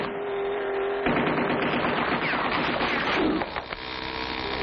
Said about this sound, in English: they're firing on us from the gun turret